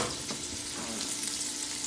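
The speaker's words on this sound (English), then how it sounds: "it's important that this is a slow process when rendering out bacon" Bacon slowly rendering in a French oven, a steady, even sizzle and crackle throughout, fairly close with no talking.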